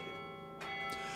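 A well-made bell rings out, its tone holding steady and slowly decaying, with a faint second strike or shimmer partway through; quiet and sustained, no voices.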